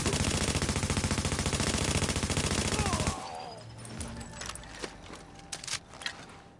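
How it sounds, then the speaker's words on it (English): Rapid automatic assault rifle fire in the video game The Division rattles in a loud continuous burst for about three seconds, then cuts off into scattered clicks and faint game sounds. "constantly using assault rifle ammunition the whole time"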